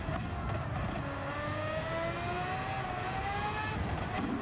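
Race car engines roar in a Gran Turismo video game race, a sustained loud drone with rising and falling pitch as engines rev and shift, heard alone without talk.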